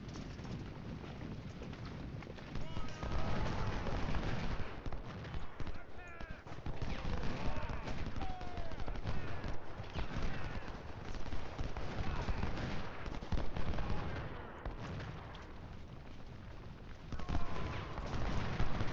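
Sustained musket and artillery fire rolls on across a Civil War battle in the game Ultimate General Civil War. The thick, rumbling barrage is steady and loud, with brief swells and dips, and faint voices blend into the din.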